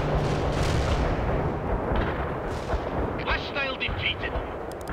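Heavy artillery strike in World in Conflict: dense, continuous rumbling barrage of booming impacts and blasts throughout, loud and close, with crackling debris and a faint voice briefly beneath.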